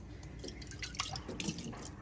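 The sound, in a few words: water poured into a drinking glass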